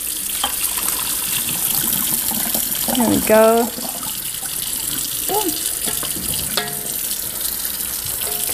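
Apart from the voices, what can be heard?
cold water running down a drain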